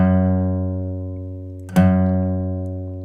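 A low F sharp bass note rings on the 6th string at the 2nd fret of an acoustic guitar, sustaining steadily and slowly decaying, with a brief string touch midway that renews it, played alone.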